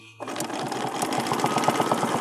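A sewing machine starts up and runs at a steady, rapid stitch as it sews through a quilting template for a feather design. The whirring is close and continuous after a brief quiet start.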